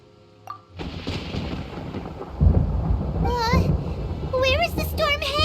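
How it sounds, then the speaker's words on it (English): Thunder rolls through a storm in Genshin Impact, a low rumbling boom swelling midway and lingering under a game character's high voice and bright chiming tones. "Paimon hears thunder!"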